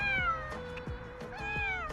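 Dina the cat meows loudly and close by, two drawn-out, gliding mews with a short pause between them and no talking.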